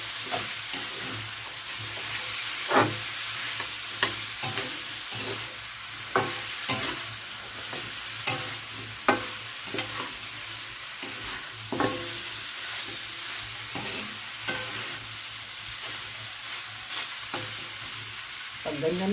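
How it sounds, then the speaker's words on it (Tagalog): Pork pata, the pig's trotter cut into pieces, sizzling and frying in a hot pan while it is stirred. A steady fry hiss runs throughout, with repeated utensil scrapes and clinks. No one speaks. "gisang-gisa na po ang ating pork patas"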